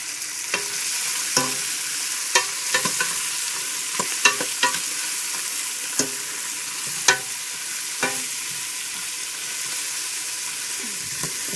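Chopped vegetables fry in olive oil in a pan for chicken noodle soup, a continuous close sizzle broken by repeated scraping and knocking of a utensil as they are stirred.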